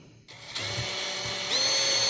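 A power drill whirs steadily while removing the floppy drive port from an Apple IIGS. The close, continuous motor whine builds after a brief start, and its pitch rises slightly near the end, with no voices over it.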